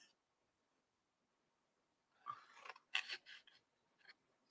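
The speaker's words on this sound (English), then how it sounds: "I'm going to cut straight up my score lines." Scissors snip through paper along score lines, a short burst of close, crisp cuts and rustles after a quiet pause, with no talking.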